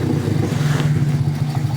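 A Yamaha Vega motorcycle engine, recently repaired after starting trouble, revs loud and close with a throbbing low drone and quick throttle swells, and no one talks over it.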